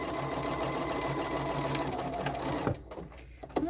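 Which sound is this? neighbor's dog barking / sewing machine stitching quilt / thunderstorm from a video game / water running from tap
sewing machine stitching quilt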